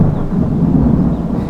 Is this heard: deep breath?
no